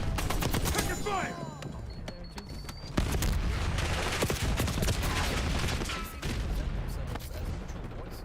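Rapid automatic gunfire and explosions in the video game Black Ops 6, dense overlapping bursts throughout with sharp impacts, under shouted voices and talk.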